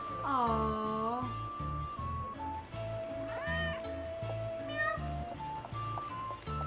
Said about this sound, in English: A cat. Interesting pet.